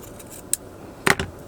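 Scissors snip through fabric as strips are cut for crafted bookmarks: a quick snip, then a closer, louder double cut, in a quiet room.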